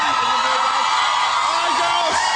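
Studio audience at a talk show shrieking and screaming at a boy band, a loud unbroken wall of high-pitched crowd yells that stays dense and close from start to finish, with some faint voices under it.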